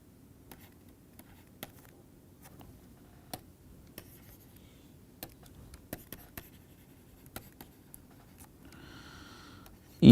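A pen or marker writing during a maths lecture, with sparse light taps and scratchy strokes spread out over quiet background hiss, ending in a sudden louder burst.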